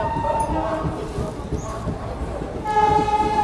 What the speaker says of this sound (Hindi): उधर से कोई तो ट्रेन क्रॉस हो रही है।